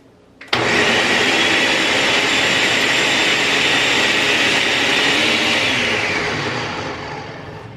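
A blender starts up abruptly and whirs at full power, loud and steady as it purees tamal red sauce, then winds down slightly toward the end.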